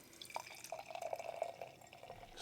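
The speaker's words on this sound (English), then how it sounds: "So let's go ahead and get this thing poured." Bearded Iris Queen Bee double IPA pours gently from a can into a glass, a soft trickling and gurgling stream with small drip-like splashes, close and quiet.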